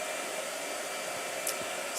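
A blow dryer runs with a steady, even whoosh throughout, with only a faint tap or two in the background.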